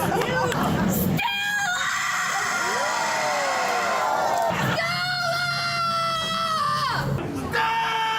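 Contestants in a yelling competition belt out long, dramatic hollers of a classic line from A Streetcar Named Desire, two loud sustained shouts with wavering pitch, separated by brief crowd noise.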